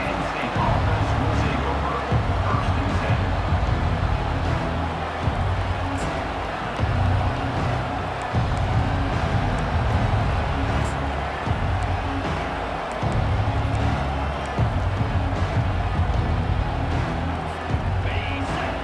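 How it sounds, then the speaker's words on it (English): A large stadium crowd roars continuously at a Georgia vs Penn State football game, a dense wall of voices and noise that stays loud throughout, with steady low rumble underneath. "Listen to this crowd just shaking the girders of this place, trying to help their defense."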